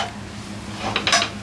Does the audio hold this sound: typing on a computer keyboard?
no